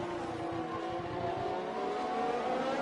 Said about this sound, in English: we can see him revving out his engine